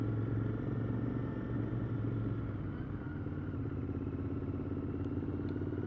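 A 2020 Royal Enfield Continental GT motorcycle engine runs with a steady low rumble and throb, continuous and fairly close, holding an even tone without pauses.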